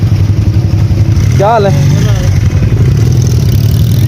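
A motorcycle engine idles and revs loudly on a snow-covered mountain road after heavy snowfall, a constant close rumble with a brief rising whine as people talk over it.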